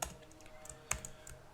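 Quiet, close computer keyboard typing while writing Thymeleaf code: a short burst of a few soft key clicks with one sharper tap in the middle.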